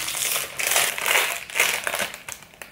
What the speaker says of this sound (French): Je galère toujours à ouvrir les paquets.